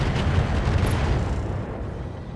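Weapons fire from mechs in the Roguetech video game, a dense, continuous low rumbling roar of blasts and booms with no clear gaps, loud and close.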